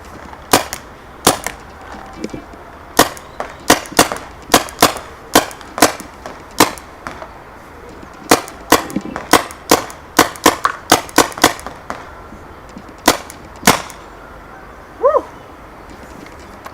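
A paintball gun fires repeated sharp, snappy shots at targets in an empty outdoor field, dozens of pops in irregular bursts, loud and close, with no talking.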